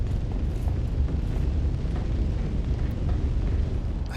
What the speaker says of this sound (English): I can hear the fire as well